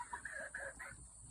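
Pet hens in a backyard give soft, close clucks and murmuring calls in a quiet, irregular series, with no talking.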